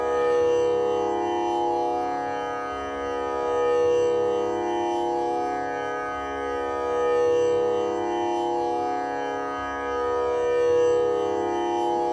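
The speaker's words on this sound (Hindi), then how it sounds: "अभी मैंने तानपुरा C शार्प पिच पर प्ले किया है।" A tanpura tuned to C sharp sustains a rich, buzzing drone with many overtones, swelling gently in slow, regular waves as the strings are plucked in cycle. It plays alone and steady throughout.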